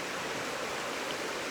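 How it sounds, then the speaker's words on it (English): A stream flows steadily over its bed, a continuous faint broadband wash of running water with no breaks and no voices. "So the water here is flowing this way, right?"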